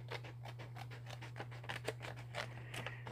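Cheap Dollar Tree scissors snip in quick, short bites, with a rapid run of crisp close-up cuts over a steady low electrical hum. No voice is heard.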